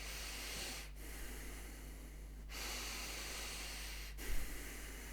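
Steady, continuous breathing exercise with in and out breaths flowing without pause, a soft airy hiss that swells and fades in long connected cycles, close and quiet with no talking.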